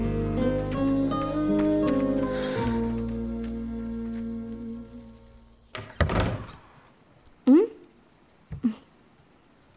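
A door is shut while music plays and then stops, followed by a couple of sharp wooden thuds and a louder slam, close and distinct, with brief voices in the room.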